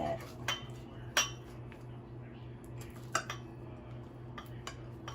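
Cutting food with a knife in a home kitchen: scattered light clinks and taps of the blade against a plate or board, close by, over a steady low background hum.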